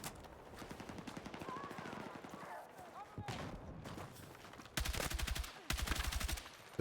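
Rapid automatic gunfire in Battlefield 6 multiplayer comes in repeated bursts, the last ones louder and closer, with a player talking between shots.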